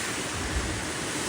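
Ocean waves wash onto the shore at Menton on the Côte d'Azur, a steady broadband rush of surf with no voices.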